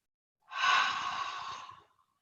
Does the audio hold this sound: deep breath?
yes